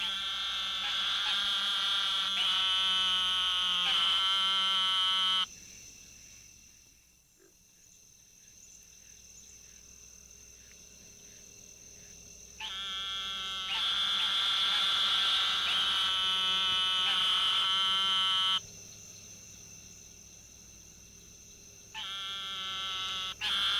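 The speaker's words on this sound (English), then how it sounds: "This is a call of the eastern narrow-mouthed toad," Eastern narrow-mouthed toad, Microhyla carolinensis, giving long buzzing bleat-like calls. They come in loud bursts several seconds long, with quieter gaps and a background insect chorus.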